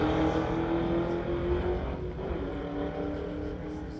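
Drag race between a 1999 Ford and a convertible Mustang, tires smoking and the rear end shaking hard; a loud, steady engine roar holds throughout without any talking.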